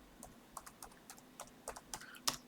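Keys tapped on a computer keyboard while recalling commands over SSH to a Raspberry Pi 4, a quick uneven run of about ten close, crisp clicks.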